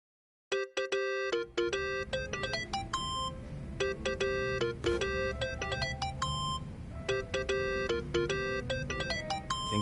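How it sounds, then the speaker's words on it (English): A mobile phone ringtone from the video game Yakuza: Like a Dragon plays as a bright, looping electronic melody of rapid chiming notes, loud and continuous for nearly ten seconds with no voices. "Think that's your phone, man."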